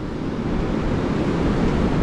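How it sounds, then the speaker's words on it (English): Ocean waves washing against coastal rocks at Stilbaai, South Africa: a continuous loud rushing surge with wind noise buffeting the microphone, no voices. "And the waves."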